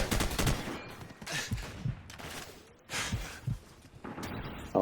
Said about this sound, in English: So you end up just kind of shooting everywhere and hoping you hit some of them.